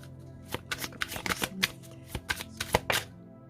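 Oracle cards being shuffled for a reading, a run of crisp riffling bursts in quick irregular succession, close and fairly loud with no talking.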